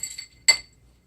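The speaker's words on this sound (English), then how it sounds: "A little stir." Spoon clinking against a glass while stirring a bourbon and black tea cocktail topped with cream soda: a couple of faint taps, then one bright, sharp ringing clink that decays quickly into silence.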